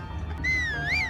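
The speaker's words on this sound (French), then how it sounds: "Bah, siffler en vrai. Parce que j'ai truc pour siffler." A clear, sliding whistle in Zelda: Breath of the Wild rises and dips in pitch over a low background hum, brief and fairly close.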